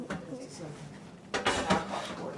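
Bowls being fetched and clattered in a kitchen while strawberries are prepped for preserves, with quiet rummaging followed by a louder burst of ceramic knocks and drawer sounds, near and under voices of people talking.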